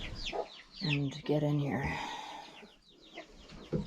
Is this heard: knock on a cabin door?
no